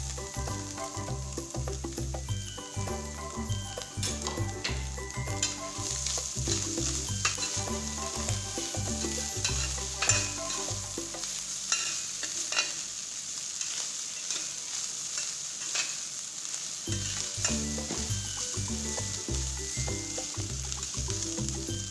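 Green pepper sizzles in a frying pan alongside fish while a utensil stirs and scrapes through it, giving a steady close crackle with irregular clatter and no talk.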